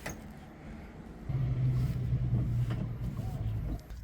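A Mercury 250HP EFI outboard engine with a throttle fault rises from a low idle into a steady, louder droning rev at about 1.3 seconds and holds there, close by, with no talking.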